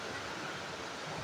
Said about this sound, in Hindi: ये बड़ी ख़तरनाक नदी है